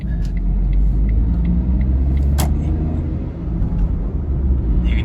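A car pulls away and runs up through the gears with a steady, loud engine rumble and road noise heard from inside the cabin, holding continuous with a brief dip partway through.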